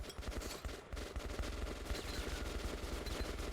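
Dense, continuous automatic gunfire from military-type rounds in the shooter game Metro Last Light, a loud, unbroken rattling burst throughout with no talking.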